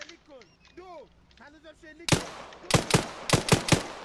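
Rapid gunfire in the military shooter game Arma 3, a burst of loud close shots in uneven rhythm following a stretch of talk with voices.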